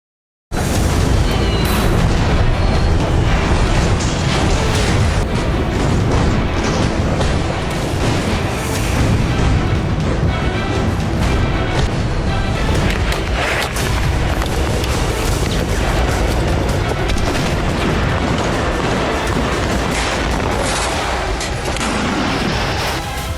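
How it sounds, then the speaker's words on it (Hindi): The Israeli army blows up a Hamas tunnel network beneath Gaza: a loud, continuous roar of explosions and deep rumbling blasts runs without a break. "गाजा की धरती के नीचे हमास की वॉर मशीन को इजराइल ने उड़ाया।"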